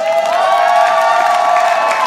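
Crowd cheering at a CUNY college commencement in 2025, loud and continuous across the whole stretch, a steady wash of voices with some high whoops above it.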